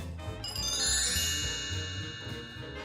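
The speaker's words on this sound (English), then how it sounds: "Chime." A bright tinkling chime rings out as a short sound effect introducing listener mail, its layered bell-like tones ringing for a few seconds.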